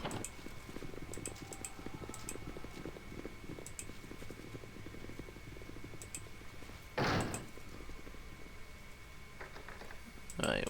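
A door opens in the Baldur's Gate Siege of Dragonspear video game, a short loud burst near the seven-second mark, with another soft knock near the end, over a busy game ambience.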